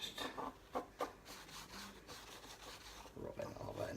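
Soft, scratchy rubbing against the edges of a wooden Nightmare on Elm Street sign, in short uneven strokes, close and fairly quiet.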